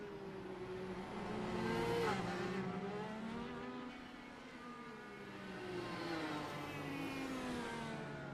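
A race car engine in iRacing on the Streets of Belle Isle hums along at a steady, moderate pitch, rising and falling gently as the car is driven without being pushed hard, with no talk over it.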